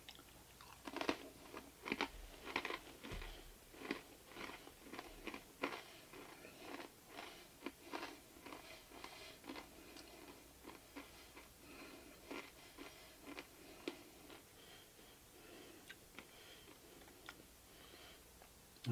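Someone chews and crunches gluten-free Chex Mix, Southwest flavor, smoked in a Camp Chef XXL pellet smoker: steady, close, quiet crunching bites repeated in a loose rhythm with no talk.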